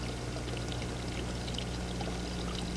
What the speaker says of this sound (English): It's a natural spring.